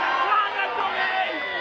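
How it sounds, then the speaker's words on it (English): Collingwood football fans in a big crowd, a dense wash of overlapping voices and cheering close by, with general babble and movement throughout. "All the mad Collingwood fans. Cheer and make sure your teeth stay in."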